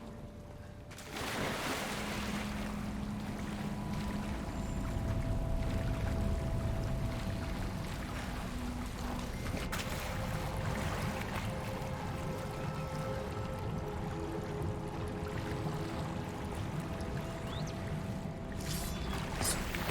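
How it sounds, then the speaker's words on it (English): Steady bubbling water in the fantasy game Hogwarts Legacy, a continuous churning wash that stays loud and close for the whole stretch, with faint tonal hums running beneath it. "Look, where the water's bubbling."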